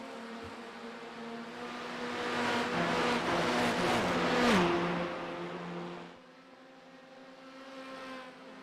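A pack of touring race cars at Mount Panorama circuit in a racing video game, engines droning and revving together, swelling louder as they pass close, then dropping to a fainter hum as the pack moves away.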